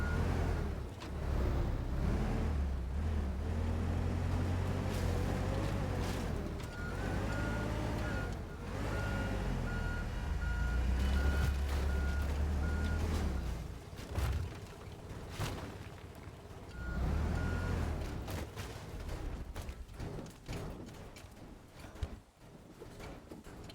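Reversing beeps from a vehicle in the video game Teardown, a steady repeating electronic tone over a loud rumbling engine, with crashes and debris noises breaking in toward the end.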